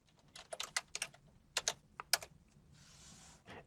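Someone types a transaction code, VA03, into SAP S/4HANA on a computer keyboard: quiet, irregular keystrokes in small clusters, ending with a brief softer rattle.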